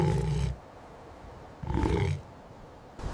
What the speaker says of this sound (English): A low growl rose.